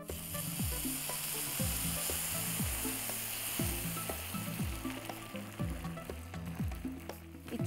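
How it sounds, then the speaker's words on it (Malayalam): Water hits roasted rice in a hot pan and crackles and sizzles, with repeated scraping stir strokes that clatter in a loose rhythm over the steady frying hiss. "അരി ഇച്ചിരി മൂത്തിട്ടുണ്ട്. ഇനി ഇതിനകത്തോട്ട് ഞാൻ കുറച്ച് വെള്ളം"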